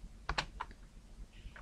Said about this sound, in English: just using the keyboard and the arrow keys